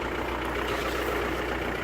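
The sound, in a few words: car engine idling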